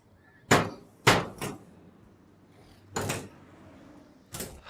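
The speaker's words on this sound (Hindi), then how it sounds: "अरे ये हथौड़े क्यों मार रही है?" A hammer strikes a metal lock again and again to break it open, with loud, sharp, ringing impacts arriving in irregular bursts: two close together, then a double hit, a pause, and more blows.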